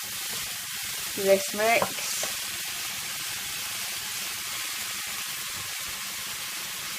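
Milk mixture poured into a hot pan of chicken, bacon and leek pie filling, giving a steady, close sizzle and hiss that runs throughout, with a brief spoken phrase near the start.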